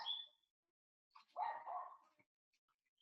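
A pet dog playing nearby gives a short faint yip, then a louder whining bark-like vocalisation after a pause, followed by quiet small noises, heard alone at a modest distance.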